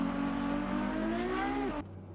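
A Ferrari 812 Superfast engine revs hard and loud, its pitch climbing steadily before cutting off abruptly with a gear shift, then a lower idle drone.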